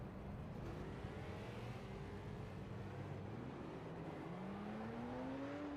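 Stock cars in an NSRL SS race at South Boston circle the track behind the pace car, a steady low engine drone with rising and falling tones from several cars, continuous and moderately loud.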